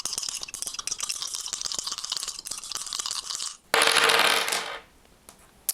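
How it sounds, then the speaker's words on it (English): Dice rattle and clatter as they are pulled from a bag, a steady run of small hard clicks, then a louder rustling burst near the end, with no talking. "Getting the last dice out of the bag."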